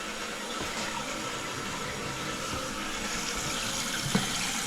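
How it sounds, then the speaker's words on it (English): A toilet flushing after a repair with new parts and a reseated flapper: a steady, close rush of running water that holds evenly for several seconds, with a small knock near the end. "I want to keep flushing the crap out of it"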